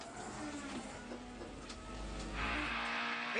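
A touring race car in a 1994 British Touring Car Championship race spins after being hit at about 140 mph, its engine droning and rising into a broad noisy rush as it slides.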